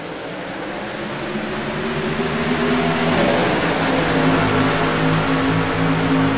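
CMC Sportsman Series race cars at Kansas accelerate at a restart as the pace car pulls off, engines rising steadily in pitch and volume into a loud, layered roar.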